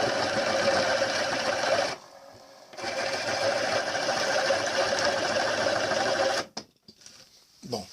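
Drilling machine running with a bit fitted, a loud steady motor whine with broad buzzing, cutting out briefly near two seconds, then resuming and stopping abruptly after six seconds, followed by quieter handling noises.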